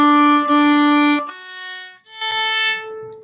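Sustained bowed string tones with steady harmonic stacks, a held note breaking into a brief pickup on an open A string and then a new bowed note, close and clear with no talking.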